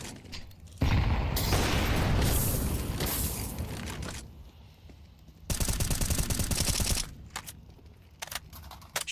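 Gunfire in a Counter-Strike pro league match: sustained bursts of automatic fire and rapid shots, loud and close, with a pause of quieter game noise and then another dense burst and scattered single shots.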